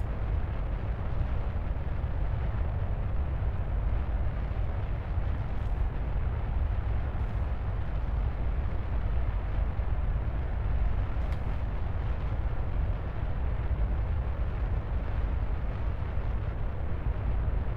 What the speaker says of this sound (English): This is the slowest I've launched a rocket in a long time.